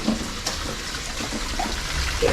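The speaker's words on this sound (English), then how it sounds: "there's water flowing out of a pipe at the side" Water pours steadily out of a pipe at the side of a shallow tunnel on a closed railway line, a constant close rushing and splashing with no break.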